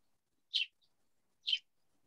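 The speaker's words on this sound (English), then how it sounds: "I love the little bird." A small bird chirps twice, clear and fairly close, with about a second between the two short high calls and near silence around them.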